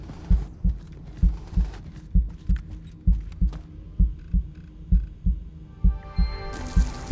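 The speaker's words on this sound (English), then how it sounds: "Let's go stop this freaking heart pounding first" A heart pounds in the video game Into the Radius 2, a loud, steady double-thump beat repeating about every half second over a low hum, with a brighter noise swelling in at the end.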